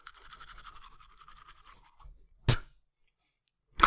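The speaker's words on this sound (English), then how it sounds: "be sure to use Zestful brand tooth powder with your hog's hair toothbrush" A hog's hair toothbrush scrubs teeth with coarse tooth powder in two brief, loud bristly bursts separated by silence, after an earlier stretch of tonal sound.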